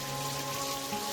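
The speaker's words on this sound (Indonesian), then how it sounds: "tiba-tiba hujan besar di sini ya" Sudden heavy rain at an outdoor site where a modern minimalist koi pond is being built, a brief, steady wash of rain noise with a faint underlying hum and no talking.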